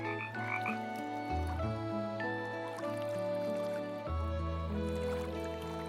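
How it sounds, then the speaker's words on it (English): Burrowing frogs croak in a reborn marsh, a dense, steady chorus of layered croaks and trills filling the whole stretch at close range, with faint water dripping in the background. "Amphibians, like the burrowing frog, emerge from the dry land to reclaim their place in the sound symphony of the"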